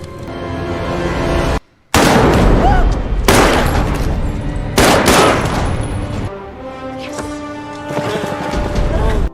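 Gunfire erupts in a film rescue scene at a bunker, with loud, dense bursts of rapid shots and booms broken by a brief silence, then continuing volleys and ringing tones, while voices speak beneath.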